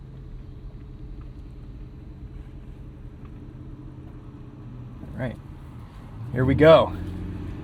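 A 2015 Aston Martin Vanquish with active exhaust idles with a low steady rumble, then a short blip and a louder throaty rev near the end; someone speaks briefly over it.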